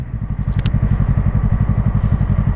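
A small motorcycle engine runs close and loud with light throttle, a steady low rhythmic thumping pulse throughout.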